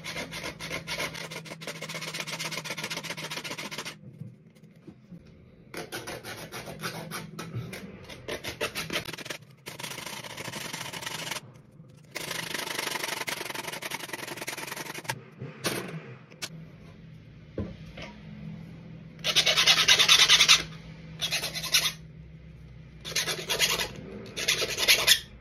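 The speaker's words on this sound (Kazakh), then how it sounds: "Мынандай қарапайым бір ара тауып аласыздар, темір кесетін." A simple hacksaw cuts through metal tubing in bursts of steady back-and-forth rasping strokes, close and loud, with short pauses between runs.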